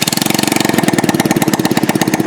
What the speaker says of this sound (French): Faisons fonctionner la moto sans le silencieux pour comprendre son importance.